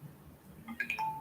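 A flip phone sounds a short electronic alert tone to signal it is done charging: a few quick bright beeps ending in one held tone, close and fairly quiet over faint room noise.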